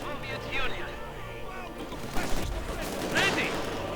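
Gunfire crackles in a strategy video game battle as incendiary rounds shred Grenadier infantry, with a cluster of sharp reports near the middle over a busy battle bed while a commentator talks throughout.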